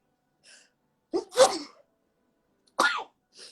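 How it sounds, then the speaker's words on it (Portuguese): A single person's sneeze, close and fairly loud, with a sharp inhale just before the burst and a smaller second sneeze-like burst following, set among soft breaths and otherwise quiet. "Adoro espirrar."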